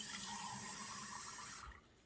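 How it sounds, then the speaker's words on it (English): Tap water runs steadily into a cooking pot of stew holding diced fire-roasted canned tomatoes, a continuous close rushing splash that cuts off abruptly near the end. "Let me get a little water in this."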